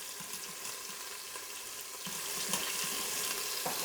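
Beef sizzles and fries steadily while browning in an Instant Pot for stew, a continuous hiss with brief crackling bursts, growing slightly louder partway through as a piece is flipped.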